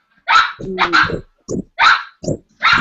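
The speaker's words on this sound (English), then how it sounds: "Sorry, my dog's barking in the background." A dog named Charlie barks in the background during an indoor interview, a few short barks mixed in with nearby speech and hums.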